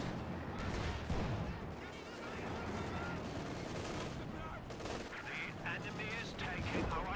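Sniper and light machine gun fire in a real-time strategy battle on the reworked Faymonville map, dense bursts of shots and distant battle noise running throughout alongside voices.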